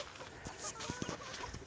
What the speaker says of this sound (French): ça, c'est le petit coq froment